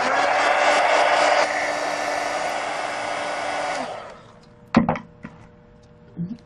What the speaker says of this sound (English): Just hit it real quick with the heat gun.